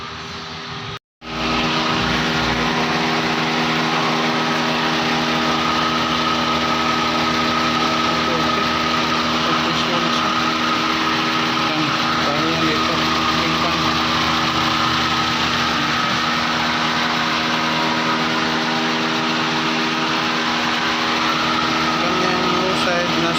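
A Toyota Avanza with dual air conditioning idles steadily with its AC compressor engaged, producing a continuous close engine hum with harmonic whine, briefly interrupted near the start, while a person talks over it.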